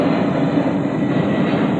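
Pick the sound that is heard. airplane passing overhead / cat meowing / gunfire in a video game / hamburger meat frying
airplane passing overhead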